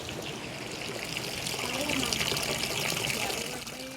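Gently flowing water runs through outdoor tubs of growing seaweed and sea vegetables, giving a steady, close trickle and wash that swells slightly midway, with a voice talking over it.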